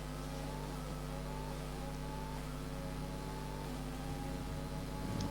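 An F1 car engine in F1 2020, racing in the Netherlands, holds a steady high-pitched whine as it accelerates, loud and continuous throughout with no voices.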